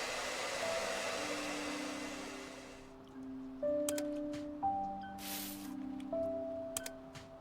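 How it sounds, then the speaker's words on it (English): Air-blowing gun in the video game Undusted gives a steady rushing whoosh for about three seconds, then cuts off, followed by soft electronic tones and small clicks. "Oh, it's an air blowing gun"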